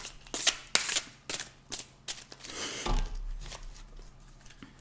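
A deck of tarot cards is cut and handled up close, giving a string of quick, crisp paper snaps and riffles followed by a soft sliding shuffle, fairly quiet overall.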